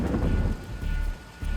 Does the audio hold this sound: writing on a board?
no